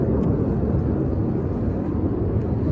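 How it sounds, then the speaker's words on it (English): A jet aircraft roars overhead outdoors, a loud, steady broadband rumble with no break. "There's a jet doing something."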